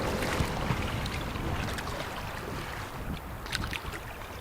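A motorboat passes on Lake of the Woods in late October, its engine a steady broadband rumble mixed with wind buffeting the microphone, holding at a fairly even level throughout.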